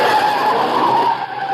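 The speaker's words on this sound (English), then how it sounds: "Car coming down from the house. Yeah, at a good clip, too." Car speeding down from a house in an old-time radio drama, a brief loud rushing roar with a whining tire-squeal quality, close and alone with no talk.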